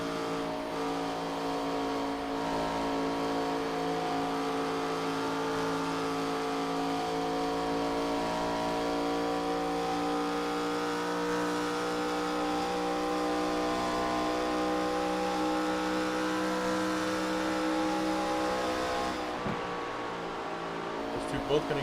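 ARCA stock cars in a close battle at California Speedway in iRacing, engines droning in a dense, sustained roar of overlapping pitches that holds steady throughout before briefly dipping near the end.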